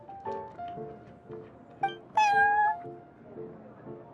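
A cat named Prince in the video game Genshin Impact gives a series of short meows and chirps, then one longer, louder rising meow, with faint background music underneath.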